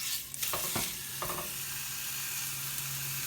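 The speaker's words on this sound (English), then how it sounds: "Now what I want to do is to sear in the meat before I add in the beer." Beef brisket dropped into hot oil in a pan, a steady soft sizzle with a few clattering handling knocks near the start, then continuous frying hiss.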